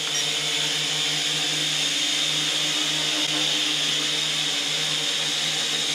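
A JJRC H51 quadcopter drone hovers indoors with a loud, steady high-pitched buzzing whine of its small propellers, droning continuously close by without any talking.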